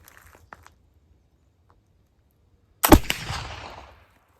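A single .45 Colt revolver shot fired during a powder test, a sharp loud crack with a short decaying echo after a few seconds of near silence.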